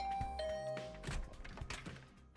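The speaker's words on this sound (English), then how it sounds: "I rang the bell by the side of the door." Doorbell beside a room door rings in a soft two-tone chime that fades out, followed by light knocking and rustling sounds, faint, with no speech.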